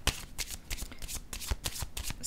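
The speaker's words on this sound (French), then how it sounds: "Je vais déposer une carte ici." A tarot card laid down during a card reading, with a series of crisp papery slaps and shuffling flicks spaced through the moment, close and fairly quiet, with no talking.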